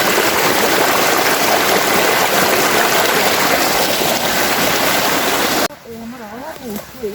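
Rushing mountain river in a green valley, a loud steady broadband roar of flowing water that cuts off abruptly near the end, after which someone speaks.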